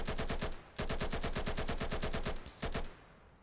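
Rapid automatic gunfire in the FPS video game Burst, which sounds like Insurgency: two long sustained bursts of fast, evenly spaced shots, a short break, then a brief final burst, loud and close.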